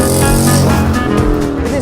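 A Morgan 3 Wheeler's engine runs loud and close while driving, a steady throbbing drone with shifting pitch through the whole stretch, with no talk over it.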